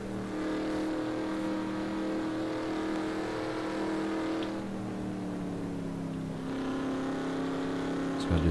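Stock car engines drone at steady high revs in a NASCAR Racing 2003 race, a continuous layered roar with pitch shifting slightly as cars jostle, with someone talking over it.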